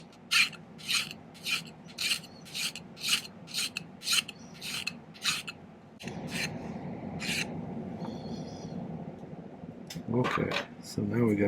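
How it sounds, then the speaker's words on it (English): A hand file rasps steadily against a silver signet ring blank in a silversmithing workshop, about a dozen rhythmic strokes followed by a rougher continuous scraping, with some talking at the end. "I filed everything down, kind of got it into its box shape"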